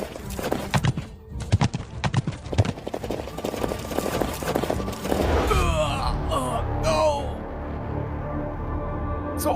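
Horse hooves clip-clop in a quick, irregular rhythm, then a loud neigh and whinny rises near the end, with a bit of voice mixed in.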